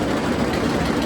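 A roller coaster train at Knott's Berry Farm rumbles past as a steady, continuous low roar, fairly loud and close, with no talking.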